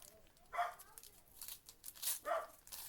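A dog barks a few times in the background, faint and somewhat distant, with short yaps spaced across the moment amid light crinkling of card packs being opened.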